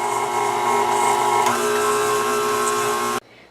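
An electric mixer creams butter and sugar for double chocolate chip cookies, a loud, steady motor whir with a constant tone that runs alone and then stops abruptly.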